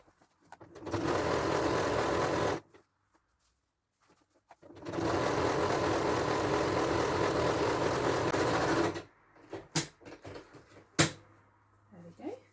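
A sewing machine stitches a skirt seam in two loud, steady runs, the first about two and a half seconds long and the second about four seconds after a brief pause, followed by scattered handling clicks.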